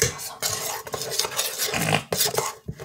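Brownie batter being mixed by hand in a bowl, a steady run of scraping and clinking utensil strokes against the dish, close and fairly loud with brief pauses, no talking.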